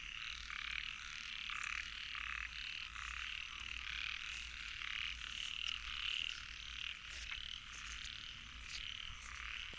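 Frogs call in a dense, continuous chorus on a rainy night, many overlapping croaks pulsing steadily at moderate distance with no voices.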